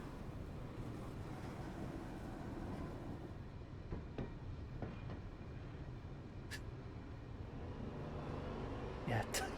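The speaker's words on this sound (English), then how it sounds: "the train's back up and running" A train in the video game Pathologic 2 rumbles steadily with low rolling clatter, a few sharp metallic squeals and clanks breaking through near the end.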